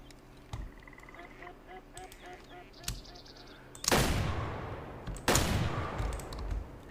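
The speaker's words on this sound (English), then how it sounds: "I think we got him. That's a 5-star mature duck." Ducks quacking in a rhythmic series in the video game Way of the Hunter, followed by two loud, close shotgun blasts with long rumbling tails, over a faint outdoor ambience.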